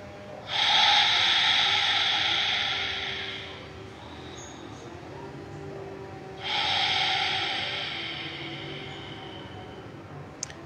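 Two long, slow breaths drawn in and out during a restorative yoga session, each a soft, airy rush lasting a few seconds, close and quiet with no talking.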